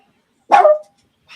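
A single short dog bark rings out close and loud at a San Francisco 49ers vs Philadelphia Eagles watch party, framed by silence with a faint sound starting just after.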